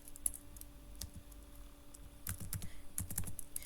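Computer keyboard typing out JavaScript code for a bouncing rectangle: irregular key clicks, sparse at first, then a quick cluster of close taps toward the end. No speech.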